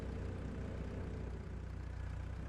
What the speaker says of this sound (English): it sounds like a small little pokey tractor there. It rides very quietly